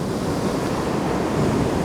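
Winter sea water surging and washing over a shore, a steady broadband roar of surf blended with wind buffeting the microphone, continuous and fairly loud with no voices.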